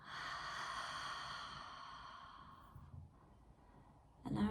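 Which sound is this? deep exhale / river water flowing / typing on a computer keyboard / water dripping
deep exhale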